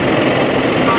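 Jackhammers break up the parapet wall and collapsed beam boxes of a fallen building during demolition, a dense, continuous rattling hammer noise with no pause and no voices.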